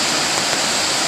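Brandywine Creek, swollen and rising during Hurricane Sandy, gives off a dense, steady rushing roar of fast floodwater that fills the whole moment with no pause.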